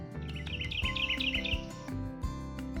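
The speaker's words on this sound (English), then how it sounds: "There's the bird." Repeated bright bird chirps in quick succession, a cartoonish tweeting call over a steady musical background.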